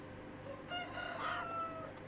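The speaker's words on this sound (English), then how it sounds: "Here's our chicken coop." Chickens at a chicken coop in Medieval Dynasty crow and cluck, a drawn-out tonal call rising in the middle over steady ambient farm noise.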